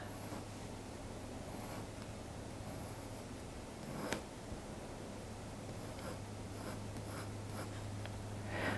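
A colored pencil scratches steadily across paper while drawing fine white hairs on a cat's ear, a soft continuous close-up rasping with brief light strokes and one sharper tap midway.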